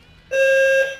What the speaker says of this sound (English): I think a fire alarm just went off in our building